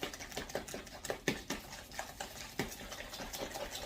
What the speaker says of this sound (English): Okay, I'm going to put that in the bananas. And I'm going to mix it up really good.